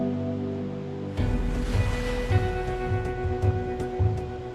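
Ocean surf rolling and breaking near the shore where penguins swim, a steady wash of water with repeated surges of crashing waves, loud and close, no voices.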